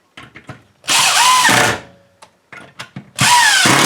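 A power drill drives screws into a wooden garden bench slat in two loud, sustained whirring bursts. Short clicks and knocks of handling come before each burst.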